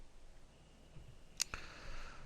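A backspace key on a computer keyboard pressed once, giving a sharp, crisp click followed quickly by a softer second click as it releases, close and quiet in an otherwise silent room.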